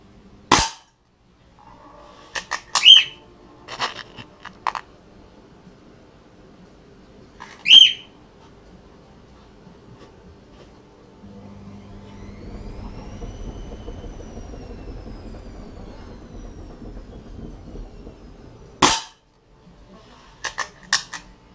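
Sharp, loud gunshots from a trigger-pull shooting demonstration, a few isolated cracks spread irregularly with quiet gaps between them, plus a faint whistling tone and low rumble in the middle.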